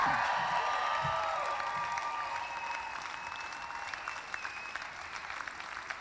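An audience at the South Whidbey High School graduation applauds to welcome the class of 2024, with a dense, sustained wash of clapping from a crowd that slowly thins and softens over several seconds.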